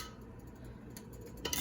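Strawberry syrup cooking down in a pot is stirred with a utensil, producing soft, faint scraping and clinking against the pot, with a brighter metallic tap near the end.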